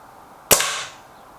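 A single sharp crack from a Crosman Silverfox Nitro Piston air rifle fired at a bottle cap, close and loud, with a short bright decay trailing off into quiet.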